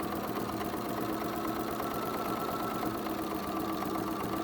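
Sewing machine with a walking foot stitching a straight seam along a zipper edge, a steady, close, continuous mechanical whir and rapid needle chatter that holds evenly throughout.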